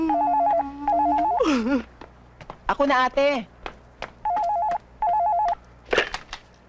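A telephone rings in repeated electronic trilling bursts, close and clear, while a voice cuts in between rings with a short spoken line.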